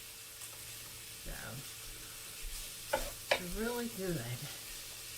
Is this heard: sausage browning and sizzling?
yes